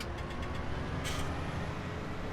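A tractor engine in a farming simulator game, a steady low mechanical drone that holds evenly throughout, with a brief airy hiss about halfway through.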